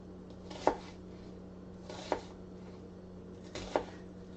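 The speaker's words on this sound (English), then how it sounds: "I love how that knife just cut through it like a hot knife through butter" Knife chopping vegetables for soup on a board, three sharp, separate thuds spaced about 1.5 seconds apart, close and fairly quiet over a steady low kitchen hum, with no talking.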